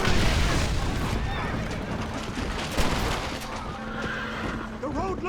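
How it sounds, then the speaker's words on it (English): Dense gunfire rattles through a chaotic shootout on a road in Red Dead Redemption, loud overlapping shots and bursts mixed with game effects, while voices shout over the fight. "Stop shooting!"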